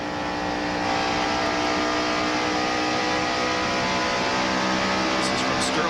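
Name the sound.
NASCAR stock race cars at speed, 1992 Hooters 500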